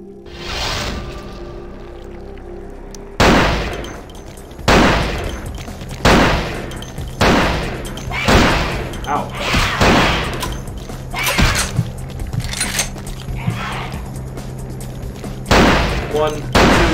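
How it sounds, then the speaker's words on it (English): Shotgun blasts in a video game fight against a monster, about eight loud booming shots spaced roughly a second apart, with a player talking between and over the gunfire. "I'm gonna shotgun her to death."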